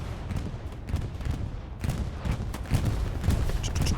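Bombing-run explosions in Hell Let Loose, a competitive WWII shooter, with a dense, continuous rumble of blasts and crackling gunfire rolling on without pause, loud and busy throughout.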